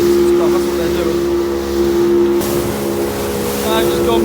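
Fishing boat engine running at sea off a beach, a loud steady low throb with constant hum and wash of water, a voice speaking over it.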